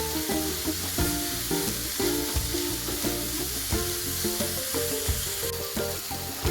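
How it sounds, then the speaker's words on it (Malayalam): Onions and spices sauté in a pan for a prawn roast, giving a loud, continuous sizzle broken by repeated rhythmic stirring scrapes. "ഇനി ഇതെല്ലാം കൂടെ നന്നായിട്ട് ഒന്ന് വഴറ്റിയെടുക്കാം"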